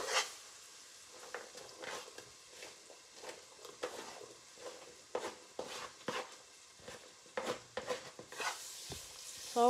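Chopped onion and green peppers cook in a pan over medium heat for a shrimp étouffée, giving a soft continuous sizzle broken by intermittent stirring scrapes and clatters, with no talking.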